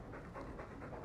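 A dog pants in rhythmic breathy bursts, close and steady, in the video game Dragon Age 2; quiet and alone with no talk.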